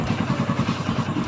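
Motorcycle engine running with a steady rhythmic low throb and mechanical clatter, close and continuous with no talk.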